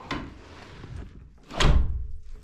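A door in a newly built house swings and closes with a heavy thud near the end, after some softer handling sounds. It sounds close, with no talking.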